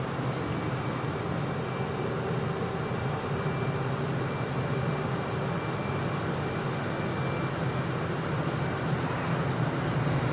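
A Su-57 Felon jet in MSFS 2020 over the runway at Merimbula, New South Wales, with smoke on: a steady, loud, broad engine roar with a faint whine, sustained throughout with no voices.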